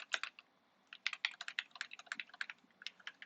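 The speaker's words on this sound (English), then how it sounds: "I won't have to be typing so much" Rapid, uneven keystrokes on a computer keyboard, close and fairly quiet, with short pauses between bursts of typing and no voices.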